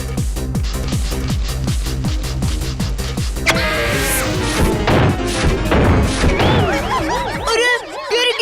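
A cartoon fall begins with rhythmic thumping, then a loud crash and jumbled clattering, followed by wobbly warbling tones as the commotion settles. Talk is faintly present.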